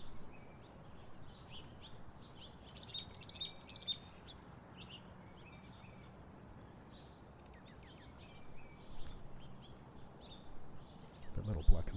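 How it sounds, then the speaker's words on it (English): Small songbirds chirp and call around a backyard bird feeder, where a Carolina chickadee is among them; bursts of light tweets come and go over steady outdoor background hiss, and a louder thump lands at the very end. "That little black and white bird is Carolina chickadee."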